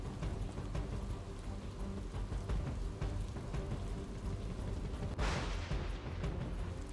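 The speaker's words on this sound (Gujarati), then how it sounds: "ધીમી ધારે વરસાદની શરૂઆત થઈ ચૂકી છે." Light rain falling at night in Bopal, Ahmedabad, after a dust storm, a steady soft hiss of drops with scattered patters, rising briefly louder toward the end.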